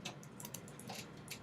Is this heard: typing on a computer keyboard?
yes